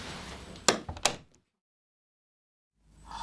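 An old door in a historic building opens with two sharp close knocks and a brief creak, then quiet follows.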